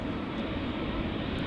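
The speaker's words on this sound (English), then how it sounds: "Two airplanes coming. JetBlue flight 632 to Boston, Massachusetts." JetBlue Airbus A321neo departing Amsterdam Schiphol, a steady broadband jet engine roar heard briefly at moderate distance, even and unbroken.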